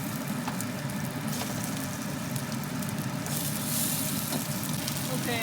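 A chicken drumstick fries in hot oil, giving a steady, dense sizzle and crackle that fills the whole stretch, close and fairly loud, with a brighter hiss swelling near the end.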